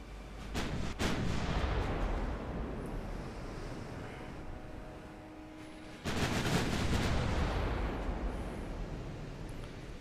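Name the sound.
destroyer secondary guns firing, from video game Ultimate Admiral Dreadnoughts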